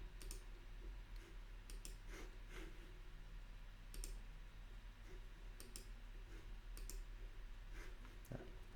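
Faint, scattered clicks of a computer mouse, short isolated taps spaced irregularly over a low steady hum, with no talking.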